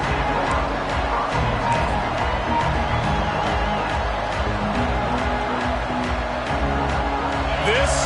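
Roaring stadium crowd at a Michigan versus Ohio State college football game, a loud, continuous wash of cheering and shouting, with a commentator talking over it.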